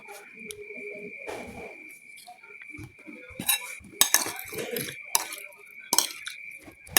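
Pork is stirred with seasonings and mayonnaise in a bowl: irregular scrapes and clinks of a utensil against the dish, growing busier and sharper toward the end, over a thin steady high whine.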